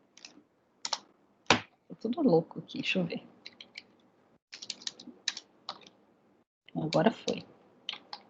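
Scattered keystrokes and clicks on a computer keyboard, near and crisp, coming in irregular bursts while someone talks over them.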